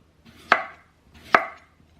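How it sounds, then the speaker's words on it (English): A knife slices through raw potatoes for a casserole, two close, crisp cuts roughly a second apart, each a sharp snap against the board with a brief rustling lead-in. "just try your best to slice them as evenly as possible, get them all uniform"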